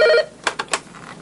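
A school office telephone at Elmhurst Elementary gives a short electronic ring, then is cut off by a few clicks and handling knocks as the receiver is picked up.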